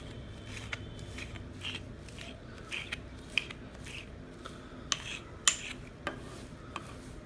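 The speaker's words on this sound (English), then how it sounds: "what I'll do is just kind of chop it up with a knife to kind of open things up" A knife chops moringa leaves on a board in quiet, irregular taps, with several sharper clicks spread across a few seconds and no talking.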